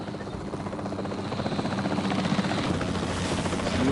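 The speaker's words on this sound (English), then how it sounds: "The priority needs to be tranquilizing it with the capture team chopper." Capture team helicopter in the video game Jurassic World Evolution 3, a steady rotor drone and thrum that holds loud and close for the whole stretch, building slightly toward the end.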